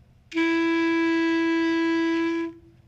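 A single sustained clarinet F sharp held steadily for about two seconds, clear and close, with no talking.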